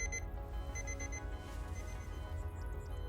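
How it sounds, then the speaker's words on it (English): An old-fashioned alarm tone rings out in the video game GFL2, a steady tonal ring carrying over a dense, loud musical backdrop for about three seconds. "An old-fashioned alarm tone goes off."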